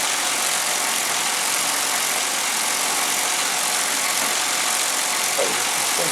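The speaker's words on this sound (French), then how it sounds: "la machine va arrêter l'élastique, et là, elle va accélérer" A sock knitting machine runs with a steady, dense mechanical whir and hiss, loud and close, holding an even drone throughout without voices.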